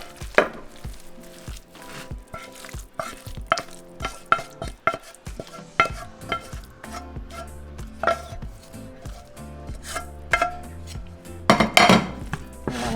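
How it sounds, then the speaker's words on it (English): A spoon scoops spicy chorizo stuffing into a baking dish, making close, sharp clinks and taps on the dish in an uneven series, with a louder clatter near the end. "I'm just going to grab my stuffing, and we're going to set it up in my baking dish."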